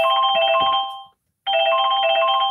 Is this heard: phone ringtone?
yes